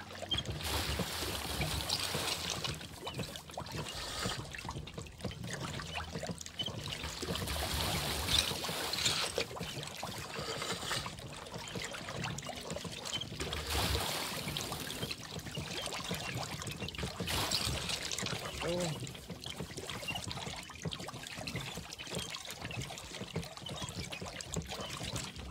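Water pumps and pours in Pax Dei, a medieval crafting game: a continuous trickling, splashing flow runs steadily at moderate level for the whole stretch, with faint knocks and shifts but no talking.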